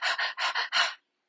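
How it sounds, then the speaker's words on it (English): Shallow chest breathing shown as a demonstration, five quick, breathy inhalations in a row, close and fairly loud, ending in silence. "we're in shallow survival breath"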